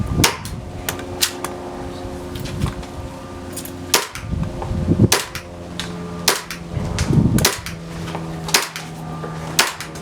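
A Novritsch SSP-18 airsoft carbine fires repeated single shots, sharp snapping cracks at irregular intervals, some in quick pairs and others spaced a second or more apart, close and loud with faint low rumbling between shots.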